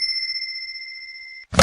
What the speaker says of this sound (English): Ah, hello, ringing phone.